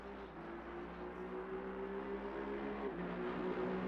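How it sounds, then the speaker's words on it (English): Aston Martin race car engine from Assetto Corsa Competizione at Imola, a steady droning roar with faint harmonic whine, held at fairly even level throughout without voices. "Big engine, roaring engine of the Aston Martin."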